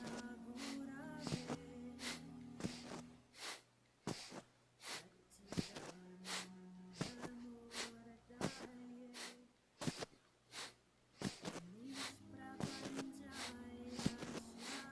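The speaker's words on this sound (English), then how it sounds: "take deep inhales and exhales" Slow, deep breaths, with audible inhales and exhales repeating in an even rhythm, sit close and clear over a soft, sustained tonal backdrop.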